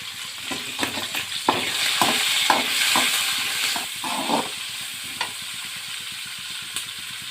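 Onions cut into fairly large pieces fry in a pan with a loud, continuous sizzle, broken by scraping and clattering stirs in the first half, then settle into steady frying.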